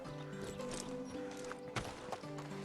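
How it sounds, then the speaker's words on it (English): Hooves clip-clop steadily around a little foal and horses in the medieval survival game Medieval Dynasty, with a faint neigh and a couple of sharper knocks among a busy in-game ambience. "Oh, look at a little baby horse."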